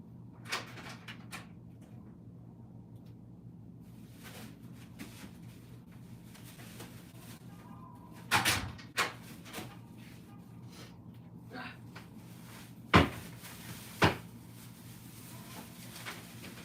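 A fridge door opens and closes amid quiet room tone: scattered soft clicks and thuds, with a louder cluster near the middle and two sharper knocks toward the end.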